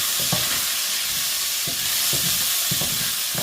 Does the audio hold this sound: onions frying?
yes